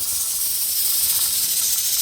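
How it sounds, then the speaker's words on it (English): Steam hissing steadily from a pressure canner with its weight rocking while green beans are canned, a loud continuous close hiss with a faint rhythmic flutter underneath. "Our weight is rocking and little bit of steam out."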